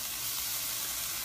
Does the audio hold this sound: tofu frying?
yes